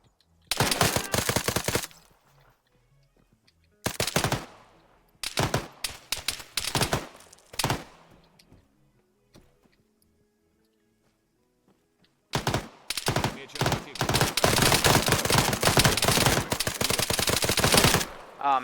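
Gunfire during a PvP operation in a video game. Sharp automatic bursts rattle out in clusters, separated by silent gaps, then build into a long sustained barrage at the end.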